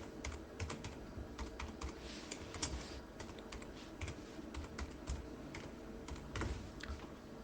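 Rapid keystrokes on a computer keyboard while an email address is typed, an uneven run of close, crisp clicks and taps across the whole stretch with no talking.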